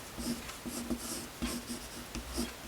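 A pencil scratches across paper in short, repeated strokes while a simple butterfly is drawn for a kids' craft activity, close and fairly loud, with brief pauses between the bursts of scribbling.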